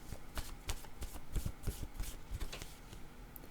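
Tarot word cards are shuffled close up, with a quick run of soft riffling flicks and slaps in an uneven rhythm and no talking.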